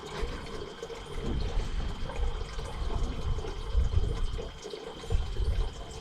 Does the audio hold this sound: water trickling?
yes